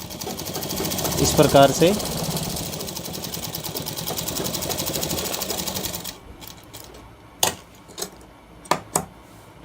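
Sewing machine stitching a shirt, a loud rapid mechanical whirr running continuously for several seconds before stopping, followed by a few sharp clunks and taps, with someone talking briefly over it.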